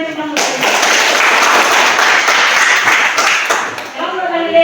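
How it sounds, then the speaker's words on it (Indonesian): A crowd bursts into warm, steady applause for a presenting group at a Christian institute event in Manado, many hands clapping loudly for a few seconds before fading as a voice returns. "beri aplaus yang meriah untuk kelompok Galilea"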